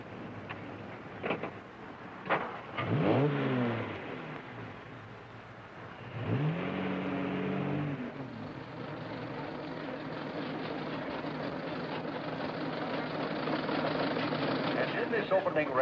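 Antique cars rev their engines at the start of a race in a 1954 film, engines droning and rising amid background noise, with people talking at the start.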